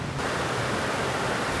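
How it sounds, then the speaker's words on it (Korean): Water cascades into the 9/11 Memorial South Pool in New York with a loud, continuous, dense rushing roar and no pauses. "이미 여기까지만 오더라도 물소리가 아주 장관으로 들립니다."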